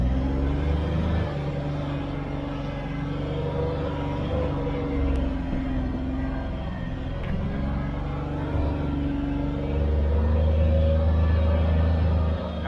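A 2022 Kawasaki Mule Pro FX UTV crawling off-road in low gear with four-wheel drive and the rear differential locked, its engine a steady low drone that swells near the end, close and without speech.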